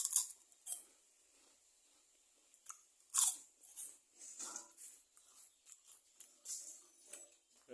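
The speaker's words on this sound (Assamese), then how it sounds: "ৰিং পাব এটা খাই দিওঁ" Someone eating a Ring Pop candy at home, with faint, close crunching and biting clicks in irregular bursts and quiet pauses between, and no talking.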